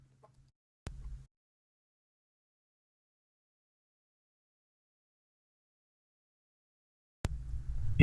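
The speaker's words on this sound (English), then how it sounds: "It is a huge bird." A huge bird sound effect in a Dungeons & Dragons tabletop game, heard as a short clucking burst near the start and then a louder squawking cluck rising at the end after a long silence.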